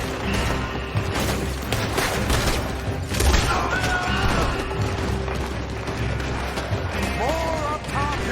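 Gunfire in the Western video game Red Dead Redemption II: bursts of shots and heavy booms crack over a noisy battle mix, with voices shouting in the background.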